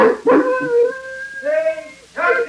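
Dog howling and whimpering in a radio drama, a few drawn-out rising and falling whines up close, loud and alone.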